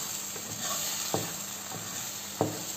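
Toast fries in butter in a pan, a steady soft sizzle with a few faint clicks and taps of the pan, fairly quiet and with no talking.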